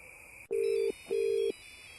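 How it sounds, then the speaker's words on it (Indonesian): An electronic telephone rings twice inside the horror game Desa Meraung Kidul, two even buzzing tones with a short gap between them, close and clear over a faint hum. "Terus suara telepon."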